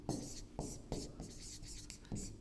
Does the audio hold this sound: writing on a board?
yes